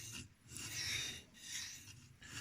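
A blade stroked across a sharpening stone in slow, rhythmic rasping passes, about four grinding strokes, close and quiet.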